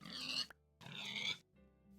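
Two loud pig grunts from Minecraft, each a harsh nasal snort about half a second long, separated by a short pause, followed by a quieter low hum.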